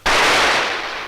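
A single loud gunshot from the film The Nude Vampire, a sharp blast followed by a long decaying reverberant tail, with no voices.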